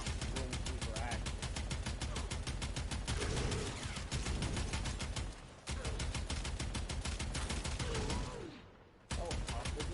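Rapid, relentless automatic gunfire from a pistol with unlimited ammo in a video game, a dense evenly spaced stream of loud shots that pauses briefly twice, with game sounds and faint voices under it.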